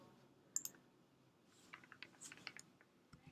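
Keys clack on a computer keyboard, one isolated press followed by a quicker burst of soft, close keystrokes and clicks in a quiet room.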